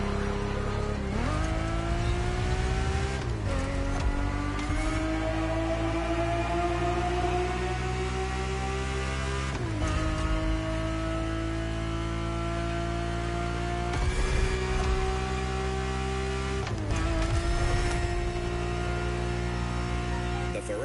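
A Ferrari 365 GTB4 races in The Crew Motorfest, its engine roaring loud and steady as it climbs through the revs, with several sharp dips at gear changes and a constant droning hum beneath.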